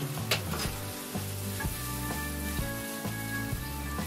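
Peperoncino pasta sauce sizzling steadily in a hot pan, a loud continuous frying crackle with faint stirring and a few sharp spits, heard alone with no voices.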